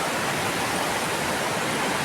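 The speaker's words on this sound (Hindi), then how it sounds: "ये रही मंदाकिनी नदी, जो केदारनाथ से आती है" The Mandakini river, flowing down from Kedarnath, rushes loudly and continuously nearby, a dense white-noise roar of fast water with no break and no voices.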